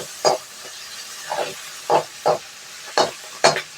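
Chopped chilies, tomatoes and curry leaves being stirred in a pan over low heat, with scattered spoon scrapes and short sizzling bursts at an uneven rhythm, close and moderately loud.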